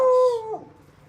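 A beagle lets out a single short, loud howl that falls in pitch and trails off.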